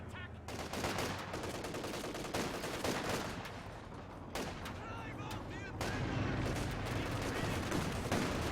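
Gunfire in the World War II strategy game Company of Heroes 2, with dense bursts of machine-gun and rifle shots crackling in rapid volleys under a commentator's steady narration.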